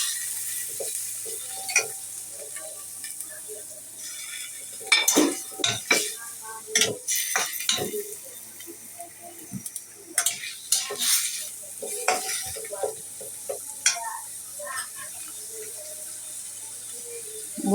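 Spring onion, green chili and carrot stirred in a frying pan, with scattered spatula scrapes and clinks against the pan over a low, quiet sizzle, some strokes sharper and louder.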